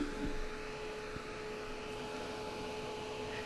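Heat dryer or hair dryer blowing on a freshly painted gingerbread-and-nutcracker craft piece, a steady loud whooshing drone with a faint whine, constant from start to finish with no voices.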